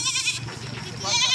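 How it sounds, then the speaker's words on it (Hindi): Young goat kids bleat loudly and close by during cargo loading, with continuous bleating across the moment and a voice talking faintly underneath. "ये बकरी के बच्चे हैं माशाल्लाह"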